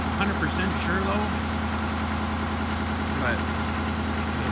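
A Ford 6.7L diesel engine idles steadily in the cold at about -20°C after a cold start, a constant low rumble heard close up, with a few faint voices and small noises in the background.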